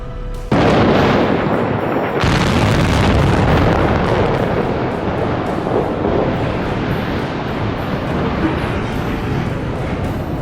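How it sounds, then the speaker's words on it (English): A factory demolition blast brings down a massive industrial smokestack, a loud sustained rumbling roar that swells after a sharp onset and keeps churning with debris noise. "The entire factory shudders, and that massive smokestack snaps back like a giant falling tree"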